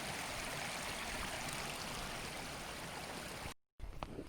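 A steady, full rush of a stream flowing beside a wild campsite at Rydal Water, close and constant, cutting out abruptly near the end before resuming.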